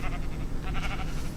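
Minecraft sheep bleat in a continuous wavering chorus, several overlapping baas close and fairly loud over a dense background of farm noise.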